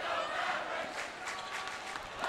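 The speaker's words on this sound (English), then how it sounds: "this crowd is already off to an amazing start tonight. They're already loud" A loud crowd roars and cheers steadily in a basketball arena at a Kinkaid vs. St. John's game, a dense continuous wall of voices.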